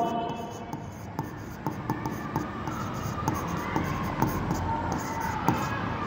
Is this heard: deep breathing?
no